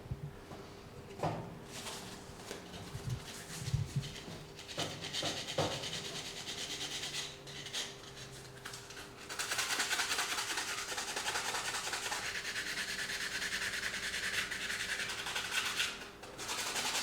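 Steady hand-rubbing with Libéron along a glued fuselage seam on a scale model, starting as soft, scattered scratches and swelling into a continuous close, dry rasp for the second half.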